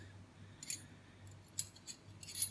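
A wire stripper from a CNC service technician's toolbox is handled, giving several faint, quick metallic clicks and snips in a quiet room.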